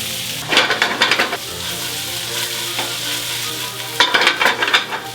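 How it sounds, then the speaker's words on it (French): Garlic butter sizzles loudly in a pan with parisienne potatoes, a close, bright frying hiss that swells in bursts of crackling as the pan is shaken or stirred, then settles to a steady sizzle. "Pour les pommes de terre en veilleuse, un peu du beurre à l'ail, comme 3 boules"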